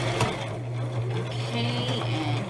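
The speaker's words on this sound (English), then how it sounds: "here I am going to back stitch" A sewing machine back stitches while making an eyeglasses pouch, running in a steady close mechanical hum with a rapid needle rhythm for a couple of seconds.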